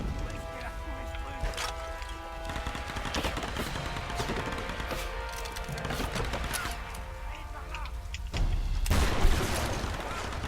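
Rapid bursts of gunfire and booming blasts from the video game Tomb Raider, with a rifle and grenades in play, crackle densely over music and game sounds, growing heavier toward the end while a voice talks intermittently.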